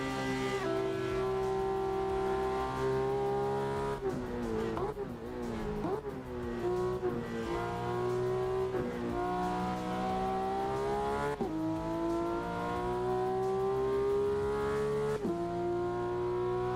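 A simulated car drifting around the Nordschleife in Assetto Corsa, engine droning steadily with harmonic revs that rise and dip, plus a brief rough patch midway, loud and continuous with no talk.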